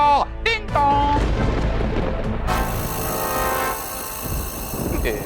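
A train sound effect plays in a comedic domestic scene, with sharp chime-like tones and a rising whistle up front, then a loud rumbling rush of a passing train.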